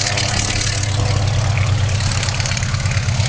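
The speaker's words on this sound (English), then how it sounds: "The mighty An-2 gets airborne with a clatter" Antonov An-2 biplane's radial engine at full power on take-off at an air show, a loud, continuous rough clattering drone that holds steady throughout.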